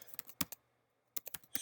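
Rapid bursts of computer keyboard typing, close and clear, with a short pause midway before the clattering keystrokes resume.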